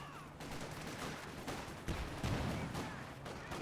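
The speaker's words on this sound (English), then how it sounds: "the blistering rate of fire from these Lee Enfields" Rapid British Lee Enfield rifle volleys in Company of Heroes 2, dense overlapping shots crackling steadily throughout with heavier bursts mid-way, a continuous battle din.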